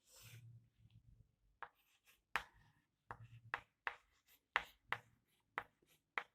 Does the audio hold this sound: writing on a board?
yes